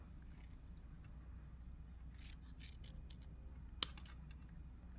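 Scissors make a few faint, quick snips as they cut straight through paper for Halloween cards, with a single sharper click near the end in an otherwise quiet room.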